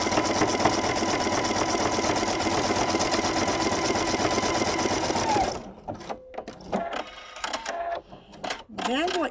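A sewing machine stitches elastic to fabric, running at a loud, steady rapid whir for several seconds before stopping, followed by a voice speaking and light handling noises.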